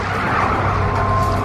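A car drives hard with its tires skidding, a loud, steady roar of engine and screeching rubber that holds without a break for the whole moment.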